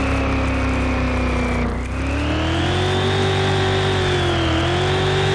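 Car engine in Car Mechanic Simulator 2021 revving hard with wheels spinning, a loud continuous whine that dips briefly as the clutch is dumped, then climbs and holds steadily high.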